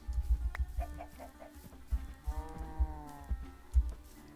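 Short chicken clucks from the Minecraft video game sound in quick bursts over low rhythmic thumps and a soft musical backdrop, fairly close and moderately loud.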